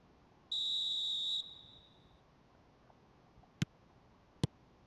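A referee's whistle sounds once in a football video game, a single clean tone of about a second over a quiet backdrop, followed later by two sharp isolated clicks.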